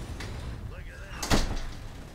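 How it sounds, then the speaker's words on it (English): A door slides or swings shut indoors with a short, solid knock and rattle, heard once near the end after a brief electronic ringing tone, while someone talks. "I'm gonna go shut that door"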